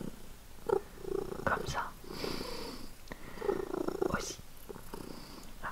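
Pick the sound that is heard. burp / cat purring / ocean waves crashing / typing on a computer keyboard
cat purring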